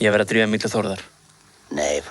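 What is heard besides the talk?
No everyday noises stand out.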